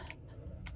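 A computer mouse gives two quiet clicks about half a second apart against a faint background hush.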